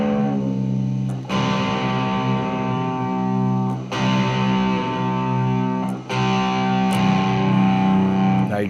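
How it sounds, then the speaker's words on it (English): Electric guitar rings out a distorted chord three times, each sustained for a couple of seconds, while the low E string is detuned toward drop D; close and loud, no talk. "you want to learn how to do a drop D tuning"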